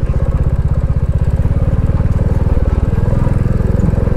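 A motorcycle rides over a sandy, rocky mountain road on a Ladakh pass, its engine chugging loudly and steadily in close, rhythmic pulses throughout.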